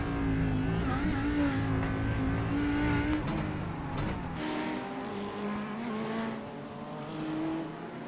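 GT3 race cars, including Ferraris, accelerating at Zolder in a sim racing game, with loud engines revving up through the gears, rising and falling pitch, and several cars layered together.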